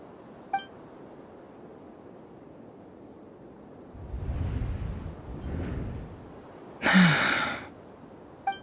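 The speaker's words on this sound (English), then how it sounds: "I heard Yehuda gasp" A Genshin Impact character gasps during the Luna II Archon Quest Act IV: faint breathy sounds build toward one sharp, loud intake of breath near the end, with quiet background between.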